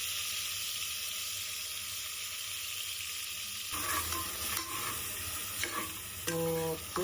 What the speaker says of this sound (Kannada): ಪೇಸ್ಟ್ ಹಾಕೊಂಡು ಬಾಡಿಸಿ ಈ ತರ ಎಲ್ಲೈತೆ